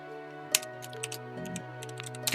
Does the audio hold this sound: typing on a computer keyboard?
yes